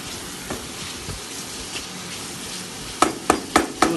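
Chicken pieces sizzle and fry in a pan for chicken khichdi, a steady low hiss running throughout with a few sharp clinks of a utensil striking the pan near the end.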